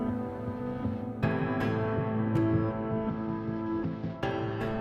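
A pounding heartbeat sound effect throbs steadily under a low sustained hum, with a few sharp accents breaking the drone, close and fairly loud, and no talk.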